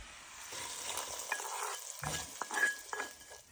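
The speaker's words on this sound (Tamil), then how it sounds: "இப்போ இதை நம்ம பொங்கலோட சேர்த்து கலக்கிக்கலாம்." A spoon stirs ghee-roasted asafoetida into a pot of pongal, giving soft scraping and stirring strokes over a light, steady sizzle of hot ghee, close and fairly quiet, with no voices.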